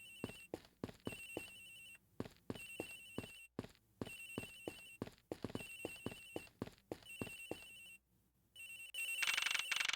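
A telephone in the Ace Attorney Investigations video game rings over and over in steady electronic trills with short pauses, clear and fairly loud, alongside soft clip-clop footstep sounds and a brighter burst near the end.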